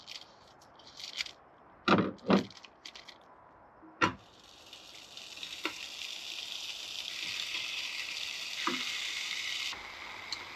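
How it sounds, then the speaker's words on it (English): Pork roll slices start to sizzle in a pan on a camp stove, a steady frying hiss that builds and holds. It follows a few sharp knocks and scrapes of handling, and there is no speech. "I think we're just going to heat up some pork roll, make some pork roll sandwiches real quick"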